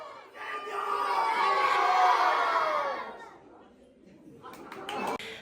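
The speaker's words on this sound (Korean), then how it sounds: "모두 함께 스페인어로 세뇨를 외치며" A church congregation in Guatemala shouting together in unison, a loud sustained crowd cry that swells and then fades into scattered voices and chatter.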